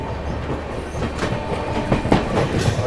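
Mahabodhi Express rolling through Ghaziabad railway station while overtaking another train, a steady rumble of wheels with clickety-clack beats and rising surges of rail noise, close and continuous.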